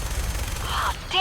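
Missiles launch from a vertibird in the game Fallout 4, a close burst of rapid cracking blasts followed by a rising whoosh as they fly off.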